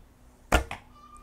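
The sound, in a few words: arrow shot from a quiet archery bow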